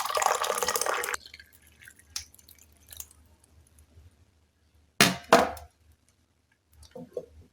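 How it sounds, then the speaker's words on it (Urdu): Hot water pours into a container for about a second with a rushing splash, followed by faint drips, clinks and soft handling sounds in an otherwise quiet room. "یہ گرم پانی ڈالا جا رہا ہے،"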